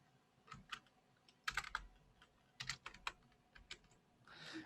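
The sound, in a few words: typing a switch statement on a computer keyboard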